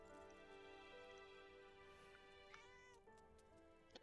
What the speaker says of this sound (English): 这只猫好眼熟啊，好像是以前先皇后养的